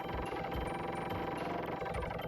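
A drill gun grinding through dirt in the video game Earthworm Jim 2, a steady dense buzzing churn with a low rumble and thin high tones, loud and continuous without pause.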